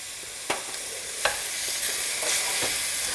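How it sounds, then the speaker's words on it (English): Red pepper chili flakes stirred into a hot pot of soup for a Zuppa Toscana, giving a steady sizzle with a few sharp scrapes and clinks of the spoon against the pot, near and alone. "I'm gonna go ahead and add in my red pepper chili flakes right now"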